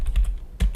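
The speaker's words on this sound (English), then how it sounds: "So you're gonna type net share." A short burst of computer keyboard typing, about half a dozen crisp close keystrokes in quick uneven succession with a brief pause near the end.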